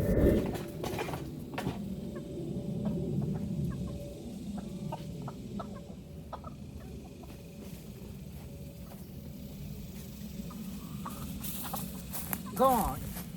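Chicken clucking in garden brush, a hen's short clucks and rustling scattered through a long stretch of low outdoor rumble, with a louder call near the end and people talking at times.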